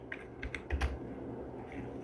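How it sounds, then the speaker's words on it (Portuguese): A few soft computer keyboard keystrokes tap close by in a quiet room, a short light cluster of clicks. "olha, você ouve o teclado"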